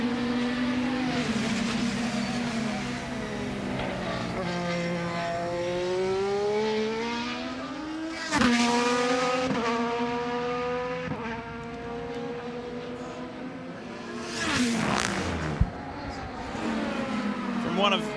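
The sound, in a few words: IndyCar race car engine on track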